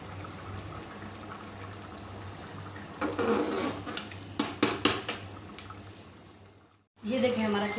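Minced keema fries in a pan over low heat with a steady soft sizzle, broken by a run of metal spoon clinks and scrapes against the pan, then a brief quiet before the sizzling resumes.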